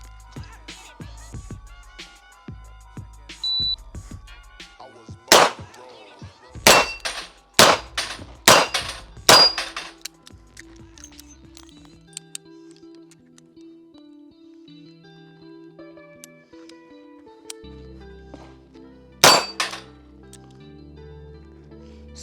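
A J-frame revolver fires at steel targets. Sharp shots ring out with metallic clangs, first a cluster of about six in quick succession, then a quieter stretch and one last shot near the end.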